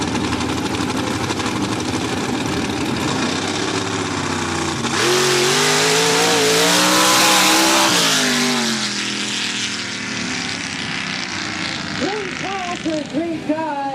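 A nitrous-fed drag race car at a mountain drag strip event roars loudly, engine pitch climbing through a hard run amid crowd and announcer chatter, then fading as further engine revs rise near the end.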